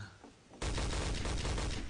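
Sudden dense burst of rapid gunfire in the Day of Defeat team shooter game, loud sustained automatic weapon fire following a quieter moment, no talk over it.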